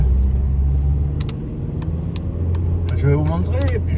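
A car drives along a road with a low, steady engine rumble and road hum throughout, while a voice can be heard speaking briefly over it near the end.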